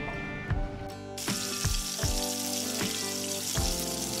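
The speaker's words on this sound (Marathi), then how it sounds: "आता यात आपण राईची फोडणी द्यायची आहे।" Mustard seeds crackle and pop in hot ghee in a pan as a tempering is made, sharp sizzling bursts repeating about every half second over a continuous loud frying hiss.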